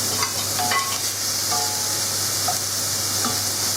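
Chopped red onion frying in a pan, a steady close sizzle with light stirring scrapes throughout, no voices.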